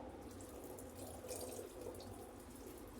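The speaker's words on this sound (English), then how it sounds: "the water has started to drip" Water trickling and dripping from a tomato plant pot after watering on a balcony, a faint continuous patter with soft splashes, close and quiet, no talking.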